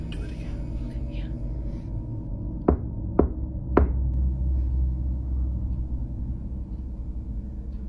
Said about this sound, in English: Do you hear the rhythm in the knock?